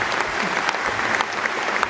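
Audience applause at Bodypower 2012, a dense, loud crowd clapping continuously with scattered sharper claps, filling the hall without any voices standing out.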